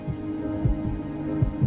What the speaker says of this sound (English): heart beating fast